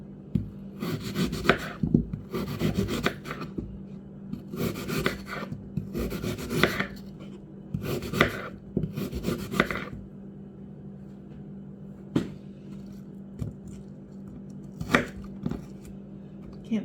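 A knife slices peeled apples on a cutting board in a run of steady, crunchy strokes, each lasting about half a second, then the cutting slows to a few sparse taps and scrapes, close up with no talk.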